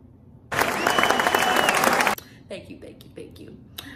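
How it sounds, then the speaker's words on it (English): A short burst of applause, loud and dense for about a second and a half, cuts off abruptly, leaving a quiet room with a few faint knocks and movements. "So can we give a round of applause for the consistency?"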